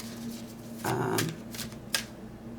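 A card is drawn from a Wisdom Oracle deck: a brief papery shuffle and slide, then a few light flicks and a small tap, close and quiet with no voices.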